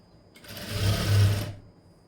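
Sewing machine stitching the hook strip lining of a cotton blouse, a close, steady mechanical whir that speeds up over about a second of continuous running and then stops.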